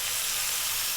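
Tomatoes hitting a pan of frying onions and garlic for an Italian chicken pasta sauce, giving a steady, bright sizzle that holds even and close for the whole short stretch.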